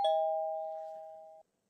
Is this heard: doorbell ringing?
yes